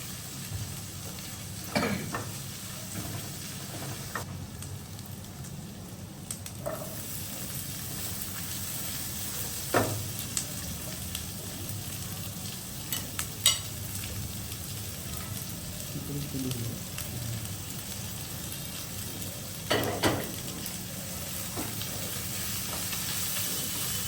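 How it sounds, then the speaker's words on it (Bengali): Ginger and garlic fry in a pan until reddish, a soft steady sizzle with occasional scrapes and clinks of stirring, fairly quiet and close. "আদা রসুনটা লাল হওয়া পর্যন্ত ফ্রাই করবো।"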